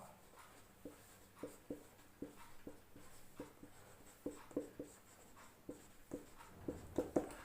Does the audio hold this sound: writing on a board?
yes